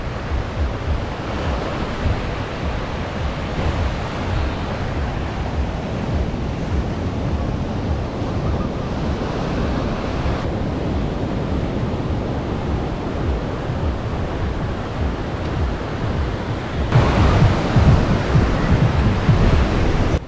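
Waves roll onto the beach at Playa Nuevo Nayarit in a continuous loud wash of surf with wind buffeting the microphone, swelling heavier toward the end, with no voices.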